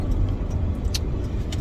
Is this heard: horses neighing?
no